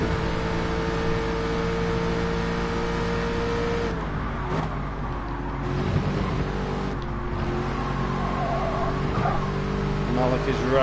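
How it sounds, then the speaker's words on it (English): A race car engine in Gran Turismo 7 hums and rises while running in the slipstream, with tonal whine steady then wavering, and a person talking over it. "His engine kicks in, gets the slipstream."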